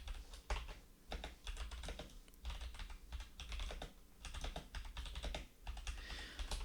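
Rapid clatter of keys on a computer keyboard as a comment is typed, close and steady in quick bursts with short pauses, no voices.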